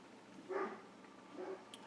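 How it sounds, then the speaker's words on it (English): Two agitated dogs bark at a distance, a pair of muffled bursts about a second apart against quiet room noise, with a faint higher yip near the end. "The dogs are quite agitated"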